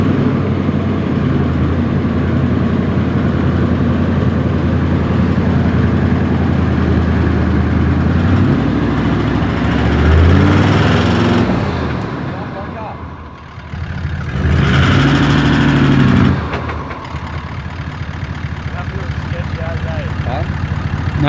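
A Suzuki Jimny idles steadily on a 4WD track in the Watagans, its low engine hum continuing under frequent nearby talk, briefly rising and dipping midway before settling back to an even idle.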